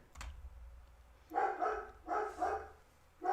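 Dogs indoors bark at someone passing by outside, three short clusters of sharp barks at a moderate distance, with quiet room sound between them.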